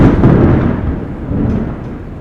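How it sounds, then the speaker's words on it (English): Loud, deep rumbling thunder rolls continuously from a storm, heavy low roar swelling at the start and slowly fading, with no voices. "don't worry about the thunder"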